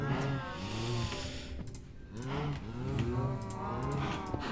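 Minecraft cows let out several long, drawn-out moos in overlapping succession, loud and near, over a constant game background.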